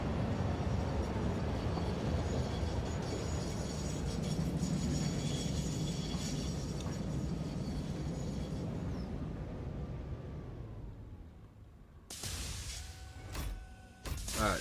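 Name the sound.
train arriving and stopping at station in Satisfactory video game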